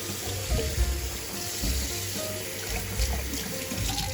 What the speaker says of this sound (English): Wash your hands though.